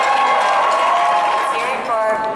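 An audience at a local music awards show cheers and applauds as a winner is announced, a dense, loud, sustained wash of clapping and voices with a few shouts rising near the end.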